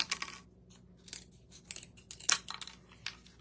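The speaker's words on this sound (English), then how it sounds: "I'm going to cut a popsicle stick" A wooden popsicle stick being cut at a craft table, heard as a few faint crisp snips and cracks spaced irregularly over quiet room tone.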